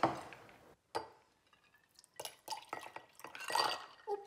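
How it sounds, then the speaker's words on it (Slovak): Ice cubes drop into a drinking glass with sharp clinks and rattles in irregular bursts, close and fairly quiet, with small sloshing of ice water between them. "Čiže teraz ideme dať ten ľad do poháru"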